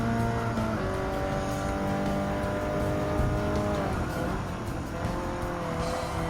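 Race cars in a Gran Turismo 7 Clubman Cup Plus race whine close by, engine notes rising and shifting through gears, with tire squeal and a passing car, continuous and loud.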